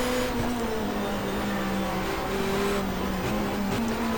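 A race car engine in GTR2, a 1994 Asia-Pacific touring car race, droning steadily and loud with pitch sweeps as it shifts down to second gear, heard alone without talk.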